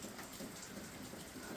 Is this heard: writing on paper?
no